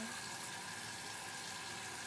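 Water runs from a tap onto a cleansing pad as a faint, steady hiss and trickle. It holds unchanged and quiet throughout, with no speech.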